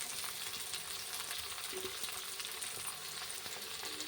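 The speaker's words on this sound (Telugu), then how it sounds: "ఇప్పుడు ముందుగా సన్నగా తరిగి పెట్టుకున్న 1 కప్పు ఆనియన్ వేసుకుందాం." Finely chopped onions frying in a pan of hot oil for egg curry, a steady, even crackling sizzle that continues throughout with no voices.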